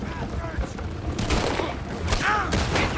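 Gunfire in Red Dead Redemption 2 during an alley chase: several sharp shots ring out in an irregular string, mixed with shouted voices and busy background clatter.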